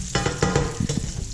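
Strips of bacon frying in hot fat in a pan, giving a steady close sizzle and crackle with irregular louder spits and pops throughout, no talking.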